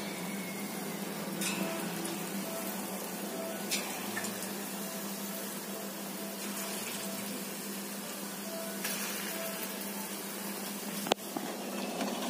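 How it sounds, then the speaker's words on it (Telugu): Marinated pieces shallow frying in oil over a medium flame, a steady fizzing sizzle throughout with a few faint clinks and a sharp tap near the end, no talking. "ఆయిల్ హీట్ చేసుకొని మీడియం ఫ్లేమ్ మీద పెట్టుకొని ఫ్రై చేసుకోవాలి"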